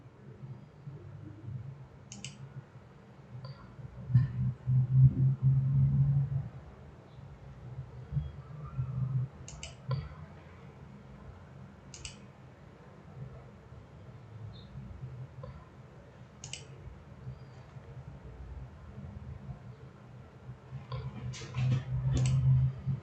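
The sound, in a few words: mouse clicks on a computer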